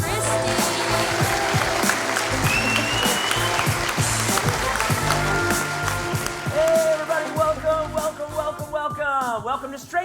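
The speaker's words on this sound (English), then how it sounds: "Put your hands together and make some noise for our Straight Talk hosts, Kevin and Kristie" A studio audience applauds and cheers loudly for the Straight Talk hosts, Kevin and Kristie, with steady dense clapping, whoops and crowd noise filling the room before the noise trails off.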